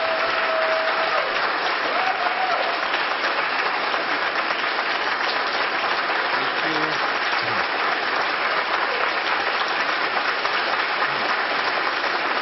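An audience claps steadily to welcome speaker Stephen E. Jones at a conference session, a dense, sustained wash of applause that continues without a break for about twelve seconds.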